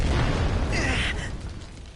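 A muffled bazooka blast in the video game Final Fantasy XV, a dense rumbling boom with a brief bright crackle that fades over about two seconds, with no talk.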